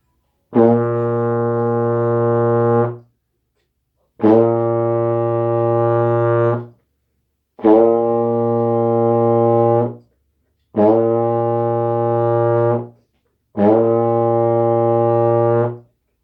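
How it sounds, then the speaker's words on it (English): Five long, steady low brass notes on a euphonium, each held about two to three seconds with short pauses between, all on the same B flat pitch. "So to get a B flat, just buzz loosely and have a good stream of air"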